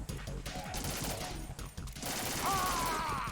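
Rapid video-game gunfire from Metal Gear Solid 2 during an underwater fight against Vamp, dense bursts of shots over a steady loud game soundscape, with a bright whining tone rising near the end.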